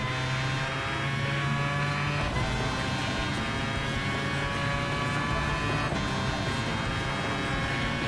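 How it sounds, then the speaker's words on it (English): A rotary-engined race car in Gran Turismo Sport drones continuously at high revs, a buzzing engine note with subtle pitch shifts and no voices. "this is definitely a remarkable car with a rotary engine on it"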